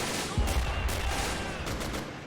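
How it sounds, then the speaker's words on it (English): Enemy soldiers' rifle and machine-gun fire in the World War II strategy game Men of War: Assault Squad 2, a quick burst of shots with a low thump, then scattered distant cracks over a steady battle din. "And enemy soldiers opening fire."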